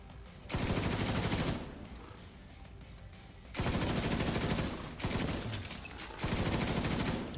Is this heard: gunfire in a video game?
yes